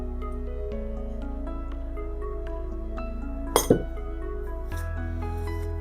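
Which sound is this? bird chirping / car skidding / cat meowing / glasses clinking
glasses clinking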